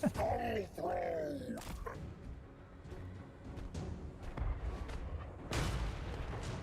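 A large warship's cannons firing in the fantasy strategy game Total War: Warhammer 3, with several deep booms and blasts amid battle noise and groaning voice effects, the loudest burst near the end.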